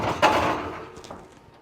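An oven door shuts with a single dull thunk, up close, and a short resonant tail fades away afterward in a home kitchen.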